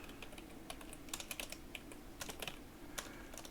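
Fingers tap away at a computer keyboard, a scattered run of light, crisp keystrokes with small bursts and pauses, fairly faint against a low room hiss.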